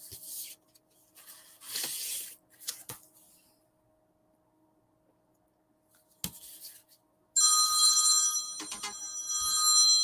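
A telephone rings repeatedly with a scam caller trying again, its bright electronic ring starting loud and steady partway through and carrying to the end, after earlier scattered rustling and a few brief clicks.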